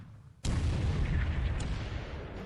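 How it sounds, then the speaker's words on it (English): A ship's guns open fire in the strategy game War in the Pacific, a sudden loud boom that rolls into a sustained, heavy rumbling blast lasting a couple of seconds, with no talking. "we're opening fire here with our guns"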